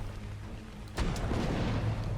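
A cannon fires in ARK Survival Ascended, one deep booming blast that hits at once and leaves a low rumbling tail, at moderate loudness over a steady background hum.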